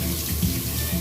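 Tap water pours steadily into a kitchen sink while food is rinsed until the water runs clear: a loud, close, continuous gush and splash.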